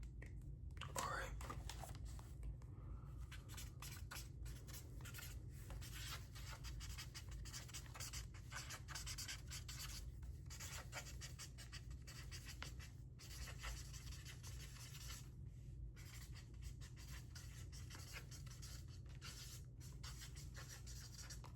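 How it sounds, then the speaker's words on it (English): A pen scratches on paper in soft, uneven strokes throughout, close and quiet beneath an ongoing whispering voice. "I'm just gonna write your results down."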